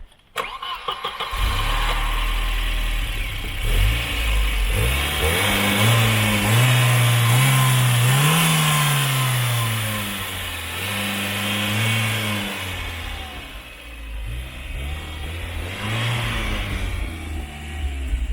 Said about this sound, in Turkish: Burada mesela 2 litrelik bir turbo motor var bu araçta.